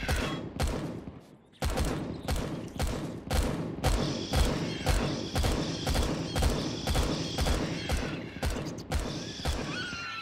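Two turrets in the Empyrion survival game fire a steady, rapid stream of loud gunshots, sharp repeated bursts running continuously with a faint whine underneath.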